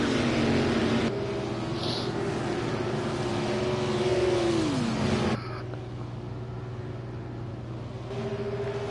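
Race cars in an oval racing video game, set at a Texas 300 event, roar past with a sustained engine drone and one pitch sweeping down as a car goes by, loud and continuous, the level dropping slightly as the pack moves away.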